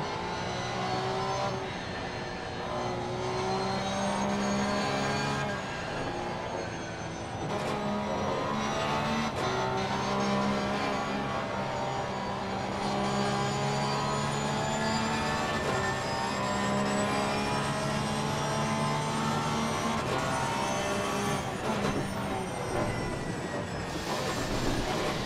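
Race car engines roar in a sim racing broadcast, a dense, continuous high-revving drone with shifting pitch sweeps as the car accelerates and brakes, loud and unbroken for the whole stretch with no commentary over it.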